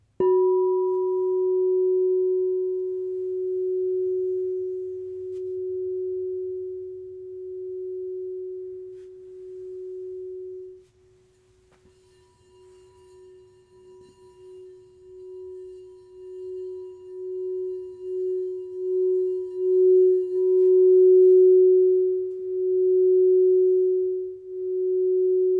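Crystal singing bowl from a five-bowl set ringing a pure sustained tone around F or F sharp, a single long steady hum with slow wavering beats, fading briefly mid-way and swelling again, alone.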